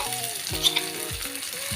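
Herbs and ground ingredients sizzle in hot oil in a pan while an ayurvedic hair oil is being prepared, a steady close frying crackle with short stirring scrapes and no talk.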